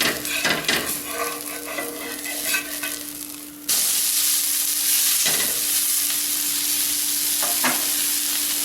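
Dosa batter sizzling and frying on a hot pan just after being flipped, a steady bright hiss that jumps louder midway and holds, with a faint steady hum beneath and a few soft scraping touches.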